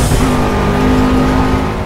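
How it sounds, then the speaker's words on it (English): A race car engine roars loud and sustained under hard acceleration with a steady high whine in the Project Cars driving game, heading down the straight toward Curva Grande with no talking. "accelerating hard"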